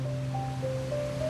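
Ocean waves rolling onto a beach along the sea, a steady continuous wash of surf with a faint tonal hum running beneath it, no voices.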